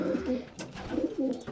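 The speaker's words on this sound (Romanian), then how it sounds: "Aici avem porumbeii." Pigeons coo in a loft, soft throaty rolling calls repeating close by in a low, bubbling rhythm, with a brief rustle between the coos.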